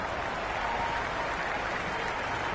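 A stadium crowd at a T20 World Cup cricket final between England and Pakistan applauds, a dense, steady wash of clapping and crowd noise that stays loud throughout, with no clear speech.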